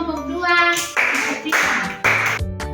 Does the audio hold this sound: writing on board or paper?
no